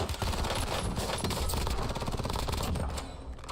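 Rapid automatic gunfire in the video game Warzone, a dense continuous burst of shots from start to end, loud and alone with no talk.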